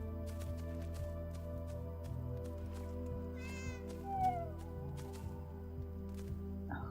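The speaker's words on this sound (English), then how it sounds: "So this cat has been a pain in my butt." A cat meowing in the game Enshrouded, a single short meow around the middle over a steady low game hum and background drone, fairly faint and not accompanied by speech.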